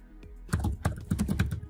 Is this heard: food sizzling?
no